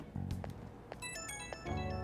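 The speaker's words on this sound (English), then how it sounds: "And I'm getting a text message." A short, faint electronic alert chimes with a few bright, steady tones as a phone text notification in Persona 5 Royal, over a quiet background.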